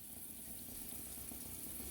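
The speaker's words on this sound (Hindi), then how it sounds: "इसमें मैं थोड़ा सा पानी ऐड करूँगी" Water is poured into a pot of rice and peas cooking for mutar pulao, a faint, steady splashing stream with no talking.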